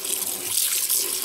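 Running water splashes and pours in a sink while cultured butter is rinsed, a close, steady, bright rush with small surges and no voices.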